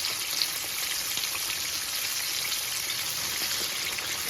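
Chicken pieces for homemade Chick-fil-A style sandwiches sizzle steadily in a pan, a continuous close, even crackle of hot oil with no pauses or voices.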